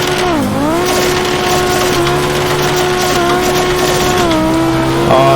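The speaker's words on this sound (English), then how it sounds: "Just goes through the gears so fast, up to 6th gear." A Group B Audi rally car in the sim racer AMS1 screams up through the gears toward sixth, its engine note climbing steadily and loud and dropping briefly at each quick shift, with no talking.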